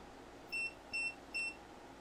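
A Mustool MT8210 oscilloscope multimeter set to AC voltage gives three short, evenly spaced electronic beeps as it switches on, clear and close over a faint background hiss.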